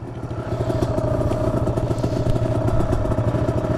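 A pit bike engine running after a crash, a loud close rapid chugging putter with steady rhythmic pulses and no voices.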